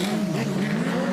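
A rally car engine revs hard at a RallyX event in Arvika, Sweden, with the clutch slipping, giving a sustained loud mechanical drone with a slight tire-squeal edge and no pause.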